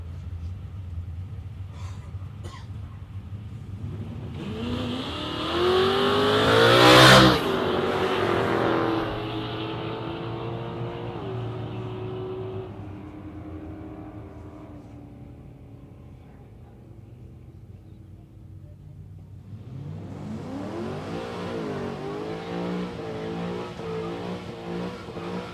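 A drag racing wagon and a sedan accelerate hard at Warwick Dragway. A loud engine roar builds to a sharp peak, then tapers off as the cars pull away. Later, another engine revs up and holds a steady, rising drone.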